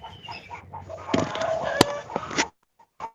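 A chicken clucks and squawks close to an unmuted microphone during an online meeting, with a run of loud calls that stops abruptly, then a couple of brief clucks after a short silence.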